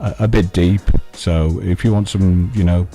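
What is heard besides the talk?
No distinct noise like a dog, phone or traffic.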